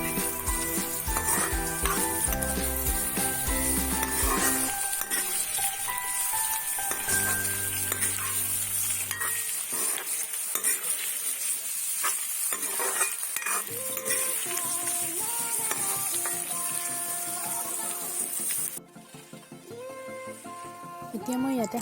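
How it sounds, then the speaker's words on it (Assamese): Potato pieces fry in oil with crushed ginger and garlic while being stirred, giving a soft sizzle under scraping and clinking of a utensil against the pan, with someone talking over it and brief music in places. "আলুকেইডোখৰ এনেদৰে অলপ সময় ভাজি লোৱাৰ পিছত এতিয়া মই ইয়াতে খুন্দি লোৱা আদা নহৰুখিনি দি দিছোঁ।"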